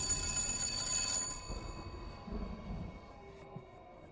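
An old telephone rings with a shrill metallic bell in a haunted house, one loud burst that stops abruptly and leaves a faint, hushed room tone.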